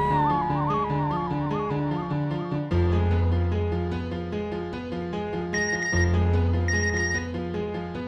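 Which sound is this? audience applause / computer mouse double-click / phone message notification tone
phone message notification tone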